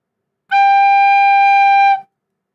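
A recorder sounds the note G (So), one clear steady tone held for about a second and a half, alone and close.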